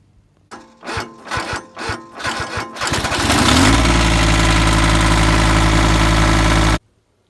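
A diesel engine cranks over several times in uneven bursts, then catches and settles into a loud, steady running roar close by, cutting off abruptly at the end.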